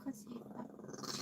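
A small dog called Little One growls low and rumbling, close by, in a short continuous stretch inside a lived-in skoolie bus, with a person's voice mixed in.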